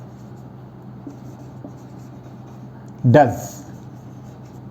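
Marker or chalk scratching words onto a board during a lesson, a low faint scraping for several seconds, then a louder brief burst as a voice speaks over it.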